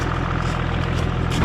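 A 12-valve Cummins diesel, a VGT setup fitted to a lifted CR-V, settles into a steady, rumbling idle right after a cold start, loud and close with a continuous low throb and no talking.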